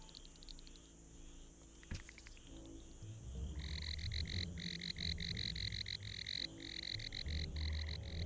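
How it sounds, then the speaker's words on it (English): A big frog croaks in Empires of the Undergrowth, a series of loud rhythmic pulsing croaks in bursts over low ambient game noise, starting after a sharp click, with no speech. "Okay, that's a big frog."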